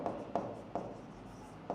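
Chalk or marker scratches steadily across a board while math is written, with four sharp taps marking new strokes; close and continuous, without talk.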